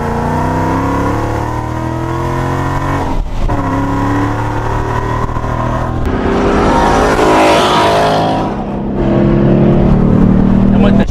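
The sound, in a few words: 650 hp Procharged Ford Mustang GT engine accelerating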